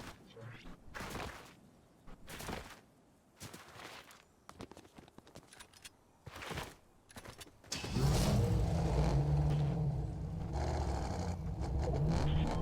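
Car driven by a player in Fortnite Zero Build: intermittent thumps and footstep-like hits at first, then a loud sustained engine drone takes over in the second half.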